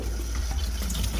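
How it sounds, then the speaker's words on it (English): Hot water runs steadily from a kitchen tap into a sink, a close, continuous splashing rush with no break. "So just run some hot water for about 30 seconds"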